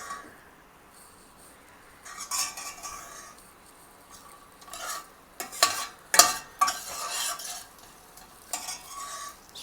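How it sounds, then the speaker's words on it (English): Tomato paste fries with onion and cumin seed in a pan for a goat brain masala gravy, a soft sizzle broken by bursts of spoon stirring, scraping and light clinks against the pan. "So tomato I'm going to just fry a little bit"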